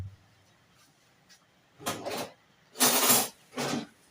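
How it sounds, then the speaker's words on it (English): A kitchen drawer is pulled open and shut to take out a spoon, giving three separate close rattling clatters of wood and cutlery with short pauses between them, and no voices. "Let me just take a spoon."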